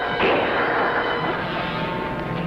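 A single gunshot in a 1950s television western rings out loud and reverberant, its boom decaying into a long sustained rumble with no talk over it.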